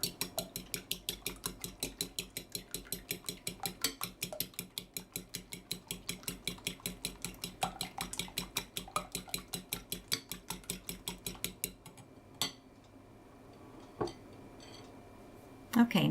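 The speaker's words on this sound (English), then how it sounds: "First, we want to beat the egg briskly with a fork, about 10 seconds" An egg being beaten briskly with a fork while mixing chocolate orange muffins, a fast steady run of light clicking taps against the bowl that stops near the end, followed by a few isolated knocks.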